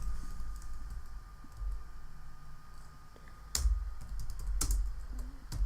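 Faint clicking of a computer keyboard as a tag is typed, a short run of soft keystrokes over quiet background hum, then several sharper isolated clicks.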